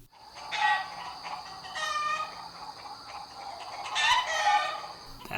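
A chicken sound effect clucks in two short, bright bursts separated by a pause, each a quick run of squawky clucks, heard alone with no talking.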